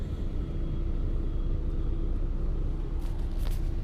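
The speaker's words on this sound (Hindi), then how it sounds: "गाड़ी जा रहा है आराम से, कोई ट्रैफिक नहीं है" Steady car-interior rumble while driving along a quiet forest road in Idukki, Kerala, a continuous low engine and road drone with no traffic, plus a couple of faint high ticks near the end.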